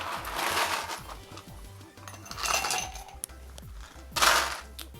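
Fresh ice tumbles into a rocks glass in loose clattering bursts, bright clinks and rattles rising and fading in waves at moderate volume with no voices.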